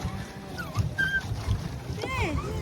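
Rowing boat out on the lake at Kodaikanal, oars splashing and water lapping against the hull with wind gusting across the microphone, bird calls and voices nearby.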